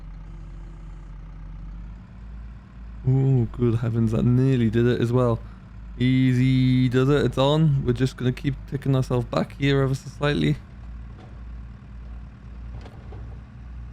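A tractor engine idles and labours steadily while it tows another tractor, a low continuous rumble that runs beneath someone talking throughout.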